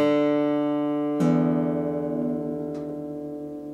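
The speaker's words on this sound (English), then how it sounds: "Then I'm going to play my low E string, and I'm going to compare the 2 sounds." A guitar's low D string rings and slowly decays, then the low E string, detuned toward D for DADGAD tuning, is plucked and sustains alongside it, with a faint extra pluck later.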